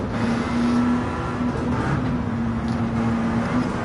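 A steady, continuous drone of sim racing car engines at Monza, the field including a URL 908 HDi, holding a sustained engine pitch at moderate level with no talk over it.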